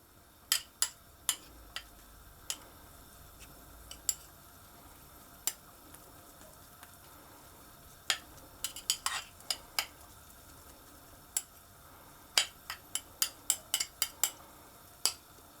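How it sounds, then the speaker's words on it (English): A spoon taps and clicks against a pan while spices and ingredients are stirred into a paste for butter chicken, with sparse sharp knocks in irregular bursts over a quiet low sizzle. "So I'm just going to mix those so that those flavours are combined."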